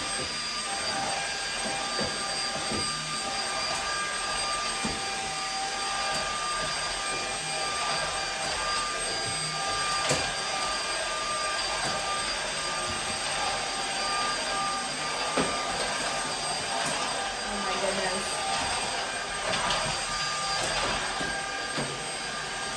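A YOKEKON cordless stick vacuum cleaner runs at a boosted power setting with a steady, loud high-pitched whine and airflow roar, joined by faint intermittent clicks and scrapes as it moves along.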